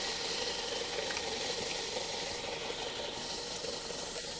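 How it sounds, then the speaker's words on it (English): Transmission oil runs from a gearbox fill hole in a continuous, even trickle that hisses and splashes close by, steady for several seconds with no voices. "The transmission oil is now running out."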